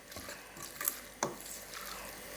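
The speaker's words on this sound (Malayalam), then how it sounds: "ഇനി നമുക്ക് നന്നായി ഒന്ന് ഇളക്കിയെടുക്കാം." Quiet stirring of mango pickle mixed with oil in a bowl, with soft wet scraping and a few light clinks of the spoon against the bowl, close and gentle, no talking.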